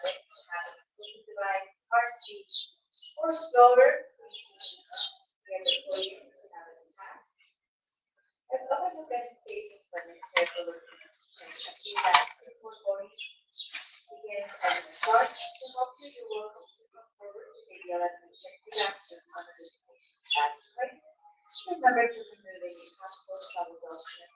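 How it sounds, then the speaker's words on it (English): Small bird chirping repeatedly indoors in an enclosed airport terminal, bright quick calls close by, with people talking over and between them throughout. "there's a bird in here"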